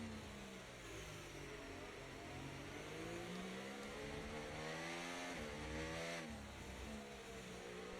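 Race car engine in F1 24 revving hard at the race start, a loud continuous snarl with rising and falling harmonic sweeps as the pitch climbs through gear changes, close and steady throughout.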